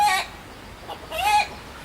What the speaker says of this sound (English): Something that upset the chicken